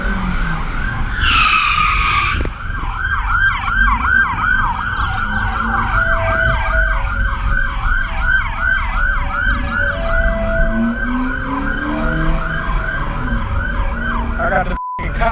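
Police car sirens wailing continuously during a live police chase, loud warbling tones cycling rapidly over steady road and engine noise, with a brief horn-like blast near the end.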